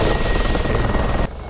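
A Mi-24 Hind helicopter in DCS World comes in to land on a runway, its loud rotor thump and turbine whine droning steadily before cutting sharply down to a quieter hum.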